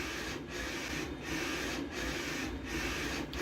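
Mutoh large format color printer printing, a steady whirring rush with the print head sweeping back and forth in regular passes, close and continuous.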